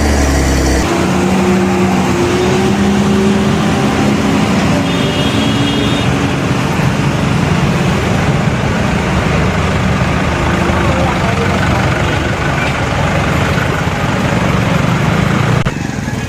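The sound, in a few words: Hyva dump truck running in a highway traffic jam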